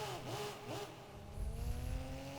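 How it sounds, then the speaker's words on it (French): A race car in the Rennsport racing game revs as it leaves the pits, with rising and falling engine whines echoing off the pit buildings, followed by a deeper low rumble and a high whine toward the end, fairly quiet and with no talk. "Le petit coup d'accélérateur avec l'écho des stands c'est génial."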